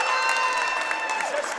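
Basketball crowd at a Loyalsock Lancers game cheering and urging the team on, a steady, loud roar of many voices with shouts throughout a busy gym.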